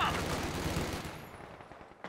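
Dense automatic gunfire from a Company of Heroes 2 multiplayer match rattles loudly in a continuous burst, then thins out toward the end.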